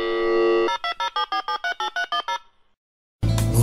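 A telephone rings while a call is being placed: a steady dial tone, then a rapid train of nine electronic ring pulses, a brief silence, and a loud burst as the line picks up.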